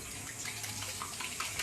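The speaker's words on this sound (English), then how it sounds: "So let me wash my hands again real quick." A kitchen tap runs steadily while hands are washed, a soft continuous splash with small shifts in the flow, faint and alone.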